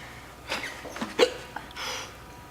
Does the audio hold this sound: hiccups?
yes